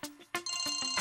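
A phone ringtone plays for an incoming call on a Tamil television serial, with a repeating electronic melody of short bright tones that swells louder partway through.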